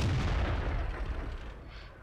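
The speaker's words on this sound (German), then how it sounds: "schieß mal auf mein vorderstes Kettenritzel" A tank cannon shot at a drive sprocket in the World of Tanks video game gives a single deep booming report at the start, followed by a fading low rumble, with no talk.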